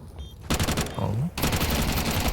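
Gunfire in a Counter-Strike esports match: loud bursts of rapid shots in two clusters, the second a sustained spray, with a caster's voice running underneath.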